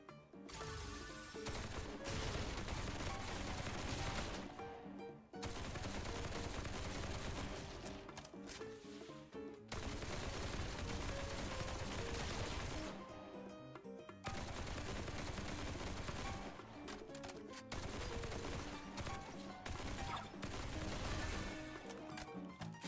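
Bursts of rapid gunfire in the game Duet Night Abyss, dense fusillades of shots lasting several seconds each, separated by brief pauses, loud and close.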